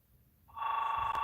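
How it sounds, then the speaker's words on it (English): A telephone starts ringing, a steady electronic tone that swells in over half a second and holds level, heard alone in a quiet room. "Oh, got a phone call out there."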